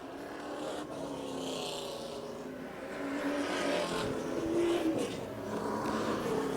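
Pro Stock 100 race cars in a heat race, heard from trackside as a pack of engines revving and accelerating past, rising in volume partway through.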